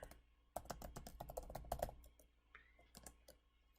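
Rapid clicks of computer keyboard typing, a brisk irregular burst of keystrokes up close, then a few scattered taps as it slows, with no one speaking.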